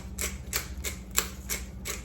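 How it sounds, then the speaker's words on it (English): A hand pepper grinder cranking over pepper in a kitchen, six evenly spaced gritty rasps in a steady rhythm, close and clear with no talking. "Then we're going to also add a few grounds of pepper as well."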